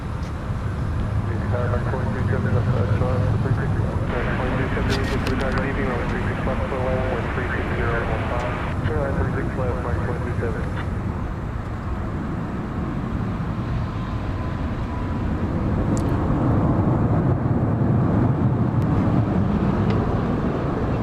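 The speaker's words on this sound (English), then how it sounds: "Glad you could be here to catch the pushback of one of two MD-80s, or MD-11s," A McDonnell Douglas MD-80 airliner is pushed back at night at DFW Airport, its engines a steady, loud roar and whine throughout, with faint talk at times underneath.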